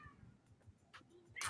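A cat meows briefly and faintly at the start, then quieter stirrings follow, with a sharp noise at the very end.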